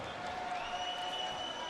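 A crowd at a volleyball semifinal between Slovenia and the Netherlands cheers and applauds steadily, a dense roar of clapping with whistles or horn tones riding on top.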